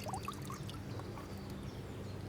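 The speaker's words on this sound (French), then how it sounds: "Donc on ouvre la pipette, je vais le remplir d'eau." Water pours and trickles softly into the pipette of a floating feeder used for carp fishing in a carp pond, a faint gurgling fill with small bubbly splashes and no talk.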